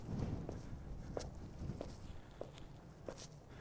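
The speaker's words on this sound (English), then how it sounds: "Hear my footsteps." Footsteps on a small outdoor path in Horsham, a steady walking rhythm of about six soft, close steps over low background noise.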